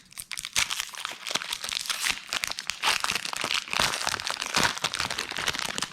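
Foil wrapper of a Magic: The Gathering JumpStart booster pack being torn open by hand: dense, continuous crinkling and ripping up close, with sharp crackles throughout and no talking.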